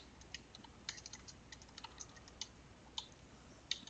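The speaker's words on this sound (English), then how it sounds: "And here we can start typing our script." Fast typing on a computer keyboard while writing a short Python script, with scattered light clicking keystrokes of uneven rhythm and a few sharper taps, heard close and alone over faint room noise.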